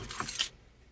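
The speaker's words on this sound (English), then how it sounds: "So I'm pulling out the keys," A bunch of keys jangles briefly as it is pulled out, a bright metallic rattle lasting about half a second before going quiet.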